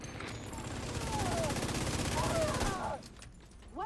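Rapid gunfire from a video game firefight, a dense sustained burst of shots for nearly three seconds, then a brief lull with a few scattered sounds at the end.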